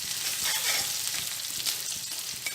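Ginger, garlic and green chili sizzle vigorously in hot oil over a high flame, a dense, continuous crackle close up, with faint scraping taps from stirring underneath.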